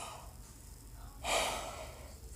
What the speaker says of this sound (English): I can't stop yawning